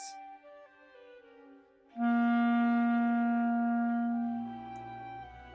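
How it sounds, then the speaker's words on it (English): A held clarinet C note sounds clearly for a couple of seconds after a quieter lead-in, steady and close, then fades as a low rumble enters. "The first note we're going to make on a clarinet is called a C."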